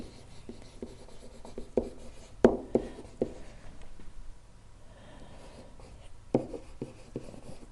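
A pen scratches and taps across a tablet screen in short, uneven strokes, quiet and close, with brief pauses between clusters of marks.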